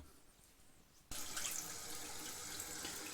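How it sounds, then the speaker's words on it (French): Cold water suddenly gushes from a tap into a sink while a face is rinsed after a traditional shave, a steady close splashing stream that continues evenly after a short quiet lead-in. "Le rinçage à l'eau froide"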